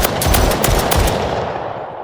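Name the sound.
pistol gunfire in Unreal Engine 5 COD Zombies video game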